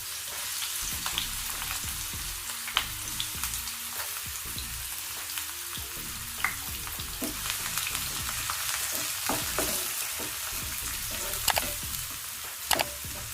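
Onions and two cloves frying in hot oil for a Telugu mushroom fry, a steady close sizzle with scattered crackles and pops and occasional stirring clinks throughout.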